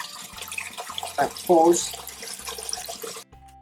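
Iron-laden well water running from a hose into a nearby drain, a close, steady splashing trickle that swells briefly and then cuts off, with someone talking over it.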